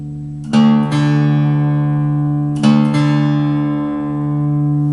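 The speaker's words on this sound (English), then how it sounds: "play your D, which is your 4th string, play the E, tune it down until it sounds good" Two pairs of plucked guitar strings, the D and E strings, ring out and sustain together, with the tones wavering slightly as one string is tuned down by ear.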